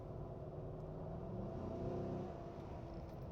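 A car on the road, a steady low engine rumble that swells slightly midway as if passing close, then eases off; no speech.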